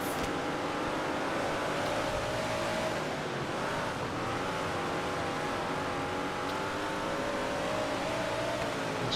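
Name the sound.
race cars engines on dirt track, World of Outlaws 24 video game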